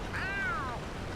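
A single rising-then-falling cat meow in the SpongeBob Battle for Bikini Bottom video game, clear and close over a steady background hum.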